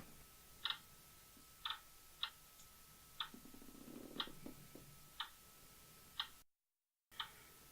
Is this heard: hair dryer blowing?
no